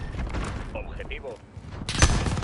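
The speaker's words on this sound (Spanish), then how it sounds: "¡Están disparando!" Gunfire in a first-person shooter game rings out as a sharp shot near the end, following a stretch of game voice lines and battle ambience.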